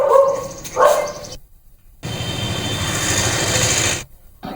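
Stray dogs bark a couple of times in a residential neighbourhood, a few short yaps followed by a steady broadband rumble, moderately loud, with no one speaking.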